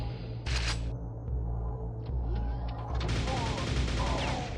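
Grenade launcher fire in the game Quake on Nightmare difficulty, a few sharp bursts over steady game background noise with a dense, crackling stretch of blasts toward the end.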